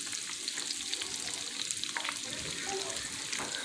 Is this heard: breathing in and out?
no